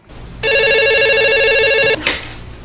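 A landline telephone rings in one sustained electronic burst of about a second and a half, loud and close, then cuts off abruptly with a brief clatter of the handset being picked up.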